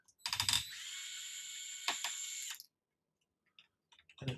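Two bolts being removed from a camber link mount with a ratchet, heard as close, rapid clicking bursts, one long run, then short ratcheting and a metallic clatter, with quiet gaps between.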